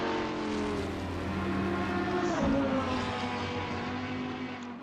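A Dodge Viper and a Lamborghini race at Barcelona in Gran Turismo, with steady engine drone rising and falling through gear changes, including a sharp downshift dip midway, loud and continuous with no talk.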